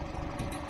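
A gas-powered McCormick Farmall 350 tractor by International Harvester idles in a steady, low, even rumble that stays close and moderately loud through the brief stretch, with no voices over it.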